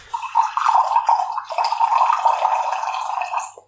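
Water poured back and forth between two containers, a close, loud, continuous gurgling splash lasting several seconds, with a short break partway through, then tapering off.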